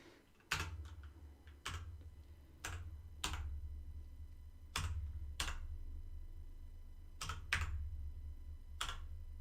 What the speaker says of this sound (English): ASMR keyboard